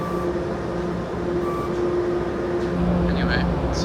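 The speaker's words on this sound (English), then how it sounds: "I don't know what this train's doing." A commuter rail train rumbles steadily at a station platform, a continuous loud low drone with faint squeals and hiss near the end, under occasional voices.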